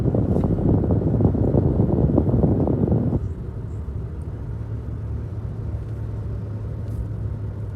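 A Toyota Tacoma drives along a road, its steady engine rumble and road noise close and loud at first, then dropping to a lower, continuous drone with wind noise.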